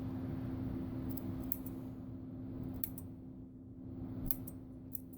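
Scissors trim a homemade Batwoman cape fabric with a few soft, sparse snips over a steady low electrical hum, no talk.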